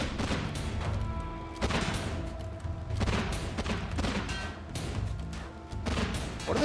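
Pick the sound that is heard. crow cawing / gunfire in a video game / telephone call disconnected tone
gunfire in a video game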